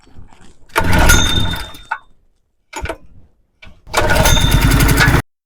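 A Wacker portable generator engine is pull-started with the choke on, giving two loud, rough bursts of rapid sputtering engine chatter, each about a second long, with short faint pull rattles between them.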